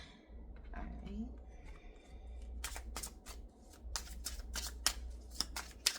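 Tarot cards are shuffled close up, a quick run of crisp riffling flicks that starts partway through and grows denser toward the end, over a low steady hum.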